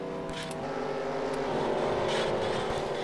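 Race cars roar in a stock car racing video game at Kansas, a dense engine wash swelling as the cars wreck just after the checkered flag, loud and continuous with no talk.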